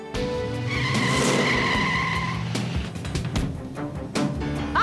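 A car swerves out of control on a bad road at night, with a loud sustained tire screech and engine roar, then rough bumps and thuds as it slides.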